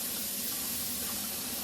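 Tap water runs steadily into a small container being filled toward a quart, a soft continuous hiss and splash heard up close at low level without talk.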